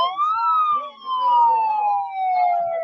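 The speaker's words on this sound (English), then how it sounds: "a device that played the sound of a siren really loud" An electronic device blares a loud wailing siren, its pitch sweeping steadily downward with a brief dip and swell, continuous for about three seconds with no talking.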